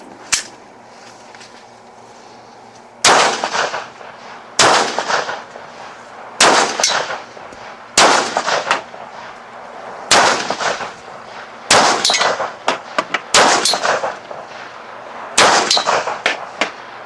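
Pistol shots at an outdoor shooting range, Beretta, Jericho and Sig P228 handguns, about a dozen loud sharp cracks, spaced irregularly with a few quick doubles, each followed by brief ringing decay.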